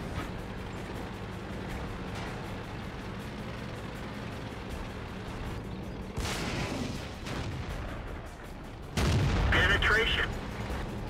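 Tank cannon firing APCR rounds in the World of Tanks game, a T26E4 Super Pershing on the Steppes map: two heavy booming shots over steady engine rumble, the second louder and sharper.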